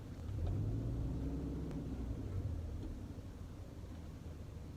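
A 1999 Subaru Forester cruising along a road around Richmond, with a steady low engine rumble and road drone that swells early and then holds even and close throughout.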